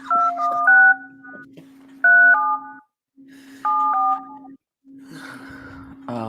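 Telephone keypad dialing tones sound in clear steady bursts of paired beeps, several groups separated by short gaps over a continuous low line tone, near and loud, with no talk.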